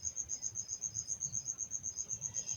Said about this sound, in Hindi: तो ये मच्छर आ गया